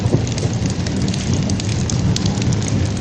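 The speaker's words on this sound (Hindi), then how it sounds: "मूसलाधार बारिश ने जल थल एक कर दिया" Heavy monsoon rain pours down in a dense, loud, continuous hiss and patter on surfaces, with no voices over it.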